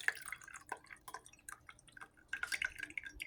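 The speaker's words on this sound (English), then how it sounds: "Pouring it." Tea poured from a pot into a cup, a light-green brew splashing in a thin trickling stream with irregular drips and splatters, quiet and close, with no talking.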